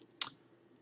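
A single crisp mouse click on a computer, short and close, in an otherwise quiet room.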